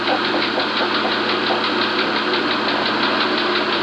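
A Wisconsin 7 horsepower engine runs steadily at close range, a loud continuous mechanical drone with a fast regular knocking pulse and a low rumble, no voices over it.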